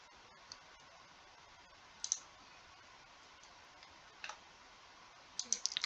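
Computer mouse clicks, a handful of small, sharp taps spaced a few seconds apart with a quick cluster at the end, faint and close over a quiet hiss.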